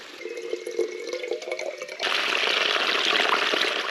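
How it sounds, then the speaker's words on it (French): Water from a small spring on a Cathar trail hiking trek, trickling and dripping at first, then swelling into a steady, close rushing flow. "Et là, on a enfin trouvé une petite source."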